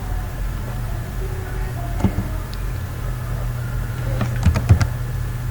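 Typing on a computer keyboard: a few scattered keystrokes, then a short quick run of clicks, fairly faint over a steady low hum.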